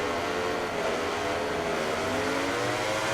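Motorcycle engine screaming at high revs with rear-wheel spin off the line at a race start in MotoGP 19, a continuous loud whine with a gradually rising pitch, no talking.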